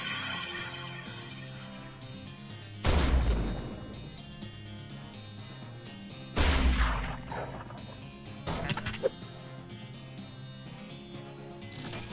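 Fire beam attack in the turn-based Western comedy game West of Loathing: two heavy crashing bursts land several seconds apart, then a shorter crackling hit, over a steady plucked music loop.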